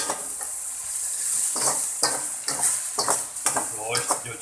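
Small pieces of ginger and garlic hit hot oil in a pan while a meat and okra curry is cooked, giving a steady close sizzle with spoon scrapes and stirring clinks throughout.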